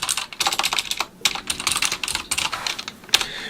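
Rapid, uneven clatter of keys as random text is typed on a computer keyboard, close and steady with brief pauses and one sharper keystroke near the end, no voices.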